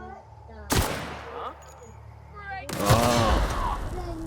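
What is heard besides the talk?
gunshots from the video game The Outer Worlds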